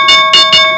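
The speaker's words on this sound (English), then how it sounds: "there's the bell." A stock market opening bell rings loud and close in rapid repeated electric pulses, a bright metallic clang with steady ringing overtones.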